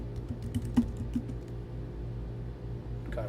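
Someone enters a password on a computer keyboard, a quick run of close, crisp key taps early on, then a pause over a low steady hum and a final cluster of clicks.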